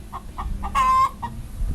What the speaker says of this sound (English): feed things to the chickens